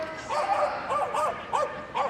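Pudsey, an 8-year-old crossbreed dog, gives a series of about six short, excited barks and yips in an uneven rhythm, loud and close, at an agility championship.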